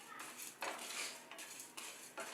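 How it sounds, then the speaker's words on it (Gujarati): Dry spices (cumin, white sesame seeds, cloves and black peppercorns) are stirred in a pan over low gas, giving soft repeated scraping and rattling strokes in several bursts, close and fairly quiet. "આ બધી જ વસ્તુને આપણે ધીમા ગેસ પર શેકી લેશું"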